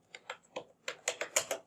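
Code typed on a computer keyboard: about ten crisp, close keystrokes in an uneven rhythm, a short pause, then a quicker burst, with no voices.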